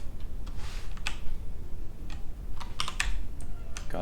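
Fingers type on a computer keyboard, rapid irregular clicking keystrokes close up, with a few louder key taps over a low steady background hum.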